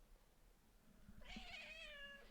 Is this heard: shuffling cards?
no